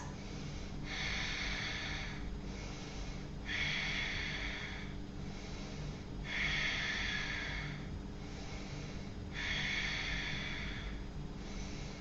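Deep, audible breaths during a seated Ashtanga yoga leg-extension hold, four long hissing exhales evenly spaced and close, steady over a low background hum with no talk.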